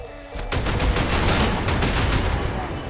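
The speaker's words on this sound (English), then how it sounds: "These minigun guys are a problem." Minigun fire in Mash Up Maps, a dense continuous roar of rapid shots that starts abruptly after a short quiet moment and stays loud and close for the rest of the stretch.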